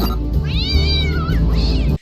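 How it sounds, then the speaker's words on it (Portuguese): A cartoon cat from Pixar's Inside Out lets out a loud, wailing yowl that rises and bends, followed by a shorter second cry, close and clear before cutting off abruptly. "E a mais legal é a do gato, que ele começa a surtar sozinho ali na casa"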